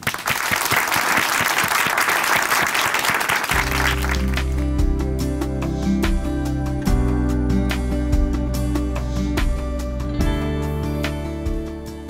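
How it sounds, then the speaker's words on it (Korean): A church audience in Chuncheon bursts into loud, dense applause welcoming a speaker to the stage, clapping for several seconds before music swells in and carries on alone. "박수로 모시겠습니다"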